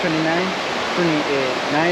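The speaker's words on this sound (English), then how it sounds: "you are really, really nearby or really, really close to the river" A river near a house in Boquete, Panama rushes with a steady, loud hiss of flowing water, while someone talks over it throughout.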